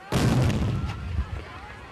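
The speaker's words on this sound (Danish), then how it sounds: "står en gruppe mænd fra byen klar til at afskyde en kanonsalut for dronningen" A replica historic cannon fires a salute over a strait for a passing royal ship, one loud sudden boom close by that rolls and echoes away, with a murmur of bystanders.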